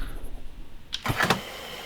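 A truck engine in Euro Truck Simulator 2 is switched off with a short mechanical clunk and rattle, followed by a quiet, low hum.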